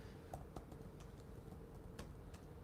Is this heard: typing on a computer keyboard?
yes